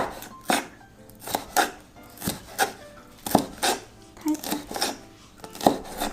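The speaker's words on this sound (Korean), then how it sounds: "야채 써는 것도 보통 일이 아니네요." Knife julienning vegetables for shrimp rice-paper rolls on a cutting board, a series of crisp chopping strokes in uneven bursts of two or three, close and fairly loud with no talking.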